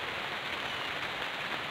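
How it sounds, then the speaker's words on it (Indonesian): Steady rain pours over a hydroponic vegetable farm, a dense even hiss of drops on surfaces continuing without pause, moderately loud and close. "sedang turun hujan"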